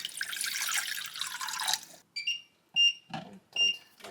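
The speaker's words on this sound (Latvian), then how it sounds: "Te ir apmēram 400 ml ūdens." About 400 ml of water for noodle soup pours steadily into a pot for nearly two seconds, then gives way to a few separate drips and splashes, close and moderately loud.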